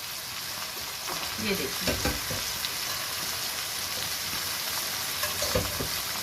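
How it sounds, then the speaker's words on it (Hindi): Beef pieces frying and being stirred in a pot for chana beef pulao, with a steady close sizzle and stirring scrapes throughout, plus a brief spoken remark near the start. "ये गोश्त को डाल के अब मैं भूनूंगी, थोड़ा सा मिक्स करेंगे।"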